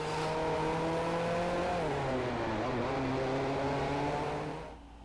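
Car engine in a PlayStation 4 VR driving video game, a steady close revving drone whose pitch dips and climbs before easing off at the end, with no talk.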